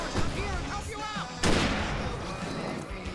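Gunfire booms in the Alan Wake video game, with a heavy blast midway amid a dense, noisy battle mix, while voices call out over the shooting.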